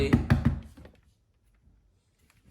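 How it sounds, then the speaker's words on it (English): A Lego puzzle box knocked against a surface to loosen a stuck piece: three quick, close, solid thunks, then near silence. "Now what I'm gonna do is I'm gonna just bang it out slightly"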